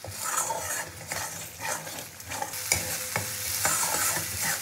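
Masala spices are stirred and fried in a pan for a Bengali tangra fish curry with potato and brinjal: a soft sizzle broken by repeated scraping strokes of a spoon at an irregular rhythm, close by and moderately quiet.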